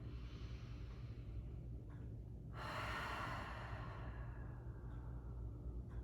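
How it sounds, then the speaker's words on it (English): A slow, deep breath during a Pilates mat class, a steady airy inhale and exhale close to the mic over a low hum, with no talking. "just take a couple deep breaths here"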